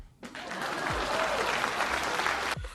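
A crowd breaks into sustained applause, a dense wash of clapping that starts suddenly, holds steady and loud for over two seconds, then cuts off sharply.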